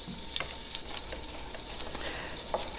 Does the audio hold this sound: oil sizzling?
yes